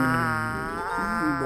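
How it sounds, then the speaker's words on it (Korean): A single fly buzzing around a sleeping grandfather's face in a stage skit, a steady, close, droning hum with wavering pitch that rises and dips as it circles, heard alone without talk. "계속해서 파리 한 마리가 날아다녔습니다."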